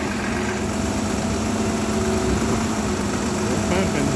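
Steady, loud drone of a concrete pump engine running during a basement wall pour, unbroken throughout, with a faint voice briefly audible near the end.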